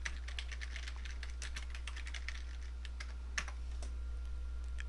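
A search being typed on a computer keyboard: rapid, irregular key clicks in quick bursts, a slightly louder tap near the end like the enter key, over a low steady hum.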